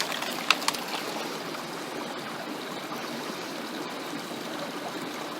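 Gold-bearing material being panned in water, a steady wet swishing and trickling with a couple of sharp clicks near the start.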